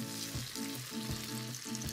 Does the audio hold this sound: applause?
no